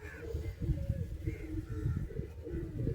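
Breeding pigeons coo softly in low, rolling murmurs that repeat steadily across the clip at close range, with faint background noise and no clear talk.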